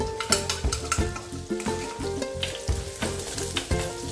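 Chopped ginger, green chilli and garlic sauté in a hot pan for mango pickle, with steady close sizzling broken by rhythmic spoon stirs and scrapes about every half second.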